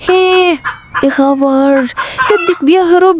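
A rooster clucks and squawks loudly and close by in repeated harmonic calls, with a person speaking briefly over the noise.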